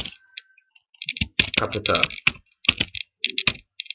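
Keys clacking in short bursts on a computer keyboard as a command is typed into a Linux terminal, with a voice speaking over and between the clicks.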